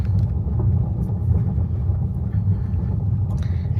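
Tesla car rolling along an unmarked, unknown road, heard from inside the cabin as a steady low road rumble and tyre drone that stays constant throughout, with no talking.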